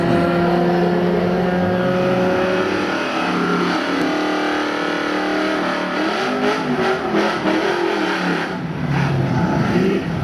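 Drag racing cars at Great Lakes Dragaway launching off the line, a Fart Popper spinning its tires beside a Mustang, loud revving engines rising in pitch, then fading as they pull away.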